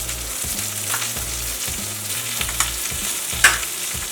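Scallions, garlic, lemongrass, ginger and eggplant fry in oil with a loud, constant sizzle, broken by repeated stirring and scraping strokes and a sharp utensil clink near the end.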